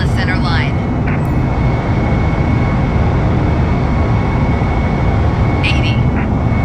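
Airliner jet engines at takeoff thrust in Microsoft Flight Simulator roar in a loud, dense, continuous rush, with a few brief electronic chimes and cockpit callouts over the top.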